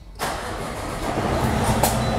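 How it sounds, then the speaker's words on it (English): A truck engine starts during a roadside commercial vehicle inspection at a weigh scale. It cranks and catches abruptly, then settles into a loud, steady rumbling idle close by. "I want to have you start your truck"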